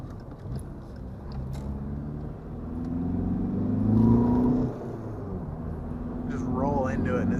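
A car driving along a back road, with a steady engine rumble and road noise that swells slightly as it accelerates. Someone talks over it throughout.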